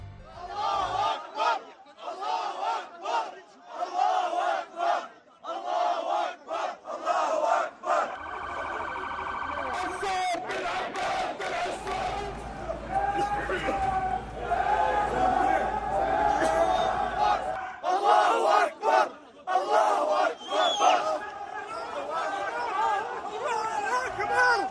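Protest crowd in Amman chants slogans in support of Palestine and Hamas, rhythmic massed shouting in bursts with chatter between, a siren-like wail rising at times, and a voice talking over parts of it.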